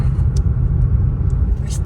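The engine of a new car runs during a test drive in a town centre, producing a close, steady low rumble. The snippet is brief and has a few faint higher ticks on top.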